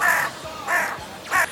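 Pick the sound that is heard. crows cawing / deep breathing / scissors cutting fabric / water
crows cawing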